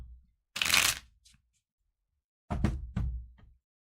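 Tarot cards are drawn and handled in two quick bursts of crisp riffling and flicking, close and clear, with a short quiet gap between them and no talking.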